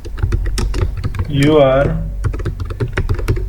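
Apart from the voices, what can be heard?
computer keyboard typing, pressing Alt Enter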